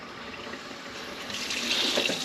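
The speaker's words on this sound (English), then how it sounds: "turn on your warm water and flush this tubing out really, really good" Warm water runs steadily from a sink tap while CPAP tubing is flushed, a continuous hissing splash that grows slightly louder and brighter toward the end.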